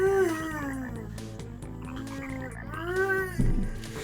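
Cartoonish frog croaks from the video game Chibi-Robo, two warbling falling calls separated by a pause, sounding clearly over faint game background with a brief thump near the end.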